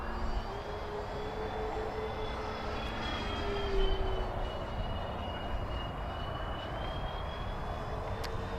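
A Freewing F-14 Tomcat radio-controlled jet sweeps past in flight, its ducted-fan whine rising and falling in pitch over a steady outdoor rumble, briefly louder as it passes, with no talking.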